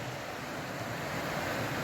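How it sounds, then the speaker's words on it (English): Steady broadband rush of a creek pouring into the Merced River near the Briceburg Suspension Bridge, a continuous close wash of flowing water with no talking. "And this creek empties into the Merced River right here."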